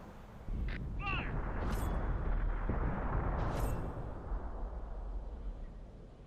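A tank cannon fires in World of Tanks, a heavy, booming blast that hits suddenly and then holds as a loud, broad roar mixed with battle noise.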